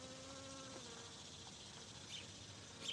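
A honeybee buzzing among garden flowers, a steady close drone that holds throughout with no talk.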